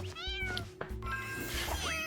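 Cartoon cats meow in the Mewgenics video game, several short, bright, rising meows and a drawn-out caterwaul over game music, fairly close and clear.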